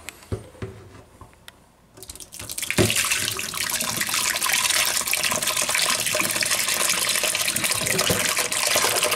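Buttermilk drains from ricotta curds through cheesecloth in a steady, rushing pour of liquid that starts after a few soft handling knocks and then continues evenly and close up.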